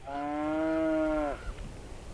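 One long, loud moo from cattle standing in snow, a sustained lowing call held for over a second before cutting off, followed by quiet outdoor ambience.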